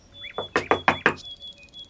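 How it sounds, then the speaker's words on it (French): Four quick knocks on a wooden door in an even rhythm, close and crisp, with a faint tonal hum underneath. "Curieuse, Blanche-Neige frappa à la porte."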